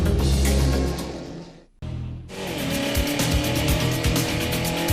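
Spec Racer Ford race cars on the St. Petersburg street circuit: a loud, steady engine roar that drops into a short gap, then returns with dense engine noise and repeated clicks and thumps, as if heard from the car itself.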